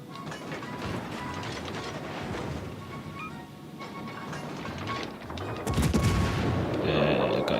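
Battleship turrets fire in the naval video game World of Warships: Legends, a dense rumbling barrage of booms and mechanical clatter that swells into a heavier salvo near the end.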